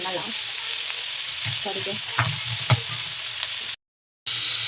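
Potato filling for aloo paratha frying in a pan, a steady close sizzle with a few stirring scrapes and clicks, a short gap of silence, then the sizzle returns; a voice speaks briefly.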